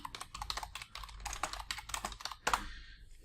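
Rapid keystrokes on a computer keyboard as a search query is entered, a steady patter of clicks with a louder final key press near the end, then quiet.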